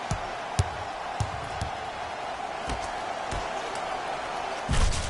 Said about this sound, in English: Ferguson slams it down